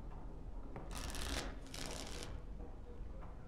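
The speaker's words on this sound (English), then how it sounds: "Before we start, the cards must be shuffled." Playing cards shuffled in the fantasy role-playing game Dragon Age: Origins, two brisk riffling bursts of papery flutter, close and clear against a quiet background.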